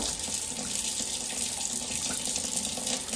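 An item rinsed under a running water tap, a steady loud hiss and splash of water in a sink that carries on through the whole stretch, close, with no talking.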